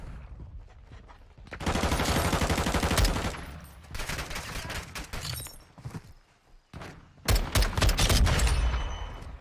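SO14 battle rifle fire in Modern Warfare 2: bursts of loud, close automatic shots in rapid rhythm, a pause, then more single and rapid shots with sharp cracks and echoing tails.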